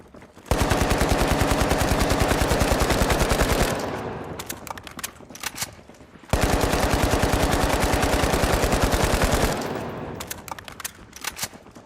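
Automatic gunfire from a weapon in the video game The Finals rattles in two long sustained bursts of rapid, loud shots, each trailing off into scattered sounds before the next burst starts.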